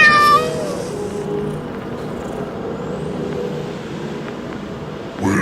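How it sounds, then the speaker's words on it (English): A cat gives a short, clear meow right at the start, then only a low outdoor rumble of passing road traffic continues to the end. "You're a cat."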